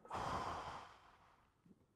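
A single deep breath, a long audible inhale-exhale sigh close to the mic, fading out after about a second.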